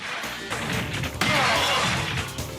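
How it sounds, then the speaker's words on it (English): Gunfire in the 3D polygon light-gun arcade game Virtua Cop breaks glass into a dense, loud, sustained crash and shatter with sharp impacts, briefly surging louder partway through. "shooting enemies through glass"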